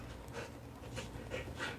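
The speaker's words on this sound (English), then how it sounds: "She's an old dog" An old dog panting softly and close by, with a quick rhythmic series of faint breathy huffs repeating roughly every third of a second.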